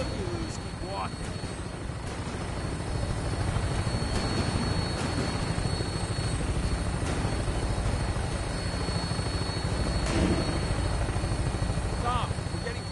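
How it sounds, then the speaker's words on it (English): Vertibird aircraft in the Fallout video game holds a steady rotor-and-engine drone throughout, a continuous loud whir with faint voices over it. "Tinker's gonna keep the vertibird spooled for an immediate takeoff."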